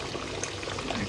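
Quail curry bubbling and boiling in a pot, a steady soft simmering hiss with small liquid pops, close and continuous, no voices.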